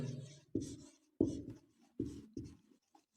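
Chalk or marker strokes on a classroom board come in about five distinct scratchy bursts separated by short pauses, close and clear, during writing of an English sentence.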